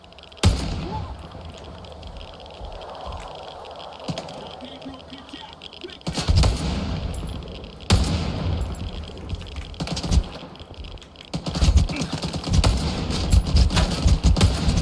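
Gunfire in the video game Stalker 2: Heart of Chornobyl, several sharp shots and bursts breaking out over a dense game soundscape, with someone talking throughout.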